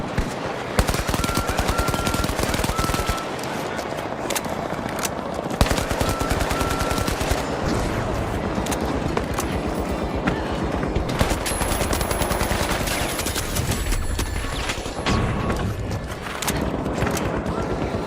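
A deployed turret in a video game blasts rapid automatic fire almost nonstop, a loud dense rattle of shots with brief pauses, mixed with other battle noise.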